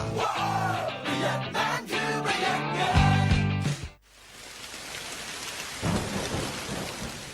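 Heavy rain pours down during a thunderstorm, with loud rolling thunder dominating the first half before a sharp drop into steady, hissing downpour that swells again near the end.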